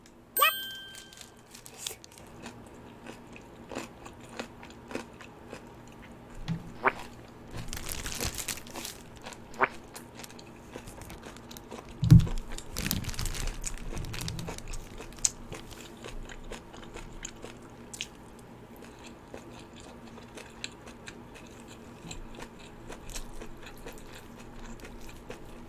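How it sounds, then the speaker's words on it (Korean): Bites and chewing of crunchy, heavily red-pepper-coated spicy kimchi with salted seafood, close up, with sporadic crunches and wet mastication sounds, a louder bite burst around the middle, and no talking. "김치만 한번 먹어볼게요"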